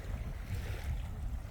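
Small waves gently lapping along a calm sea beach, a soft, continuous low wash with faint wind noise, close and steady, no voices.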